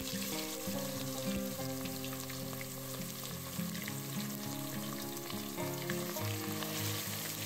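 Chicken pieces fry in hot oil in a pan, giving a steady, close sizzle and crackle that holds constant with no voices.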